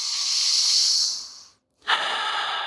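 Deep breathing during a yoga session for the pelvic floor: a long, loud breathy exhale, a short pause of silence, then a sharp, hissing inhale close to the microphone, with no talking.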